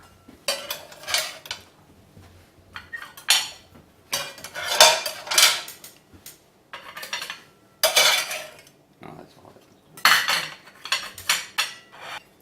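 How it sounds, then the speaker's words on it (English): Fluffy Japanese pancakes are lifted from the pan onto a plate, with a series of sharp metallic scrapes and clinks of utensil on cookware coming in bursts separated by short pauses. "You just scoop it onto a plate."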